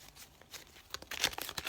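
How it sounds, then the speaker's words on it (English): Tarot cards being reshuffled by hand, a quick run of soft papery riffles and crinkly flicks that grow denser and louder toward the end. "I'm going to reshuffle because I'm trying to reshuffle these cards"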